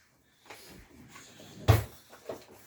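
A young child opens and closes kitchen drawers, giving a few scattered wooden knocks and slides with one sharp bang near the middle, indoors and fairly close.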